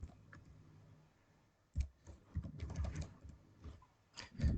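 Computer keyboard typing, a quiet lead-in followed by bursts of irregular key clicks and taps at close range, with no voice.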